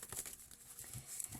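Tarot cards are shuffled in a brief, quiet burst of papery riffling and soft flicks, close and faint.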